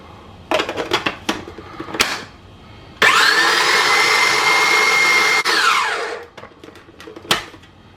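A kitchen blender whirs for several seconds as it purees tomato, basil and butter, starting with a few short pulses, then running steadily before spinning down, followed by a couple of faint clunks.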